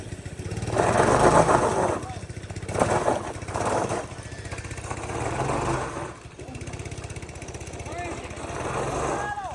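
The small engine of a Manco 126cc Dominator go-kart runs on a test run, its buzzing motor rising and falling in several rev surges, loud and close, with people talking underneath.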